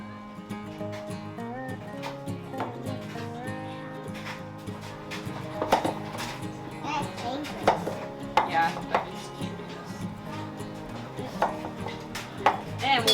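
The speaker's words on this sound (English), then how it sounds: "chopping it into smaller pieces so that it fits well on my baking sheet here" Squash is chopped into smaller pieces for roasting on a baking sheet in a home kitchen, knife strikes knocking on a board in an uneven rhythm under steady background music.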